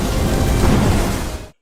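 Thunder from an eight-colour pill in an animated fantasy series crashes in as a loud, dense, continuous rumble, holding steady for about a second and a half before cutting off abruptly into silence.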